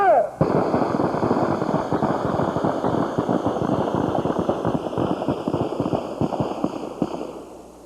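Rapid gunfire during a firearms training exercise, a dense string of sharp bursts and shots going on for several seconds, loud and close, with a faint voice under it.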